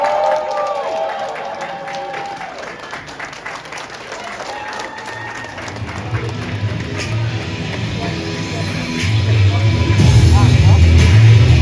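An audience at a business training event in Malaysia breaks into applause to welcome a speaker, the clapping swelling from moderate to loud and dense over several seconds, with voices and a public-address announcement heard over it.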